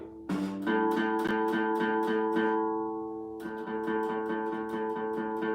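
A guitar's open A string is picked repeatedly in a steady rhythm, each pluck ringing bright and clear, close and unaccompanied.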